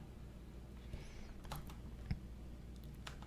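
Quiet keyboard key presses at a computer while modeling in Blender, a few soft isolated clicks over a steady low hum.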